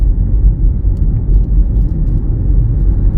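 A car on a road through farmland heading toward a village, heard as a steady, loud low rumble of engine and tyres that holds for a few seconds with no voices.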